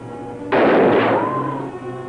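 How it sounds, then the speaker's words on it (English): A single loud, close gunshot blast from a 1954 film booms out and decays into a long echoing rumble, with quiet background tones before it. "But why are you shooting at me?"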